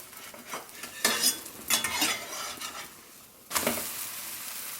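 A garbanzo bean paratha sizzles softly in a pan while a metal spatula scrapes and clatters against it in several short bursts, with one louder scrape and flip near the end.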